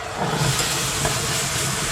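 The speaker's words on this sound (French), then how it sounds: "Ça fait de la vapeur." Hot cream poured into a chocolate and butter mixture for a chocolate tart sets off a steady, broad hiss of steam that holds up close and fairly loud for the whole stretch, with no voices.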